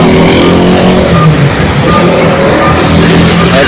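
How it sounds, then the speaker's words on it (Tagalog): A truck pulls onto the truck scale at a Philippine junkshop, its engine a loud, steady close rumble that fills the whole stretch without pause. "Ito yung truck natin, papasok din sa truck scale."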